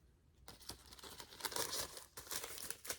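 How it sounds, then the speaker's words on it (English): A DVD being worked out of a paper sleeve, with crisp paper crinkling and rustling in irregular bursts, close and fairly quiet, after a near-silent start. "That's a little hard to get it out of the little paper case for some reason"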